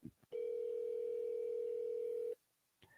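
A telephone dial tone sounds as a call to family is placed, a loud, steady single-pitched hum lasting about two seconds, with brief clicks just before and after it.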